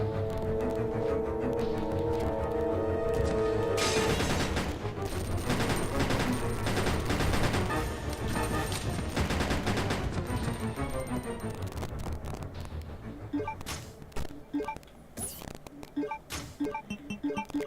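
Sustained video game gunfire at a zombie in Resident Evil Code Veronica X, dense continuous shots over a steady game soundtrack with no voices.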